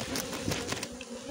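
A honeybee colony in an opened hive gives off a dense, continuous buzz, with individual bees droning past close by and faint knocks of the frames.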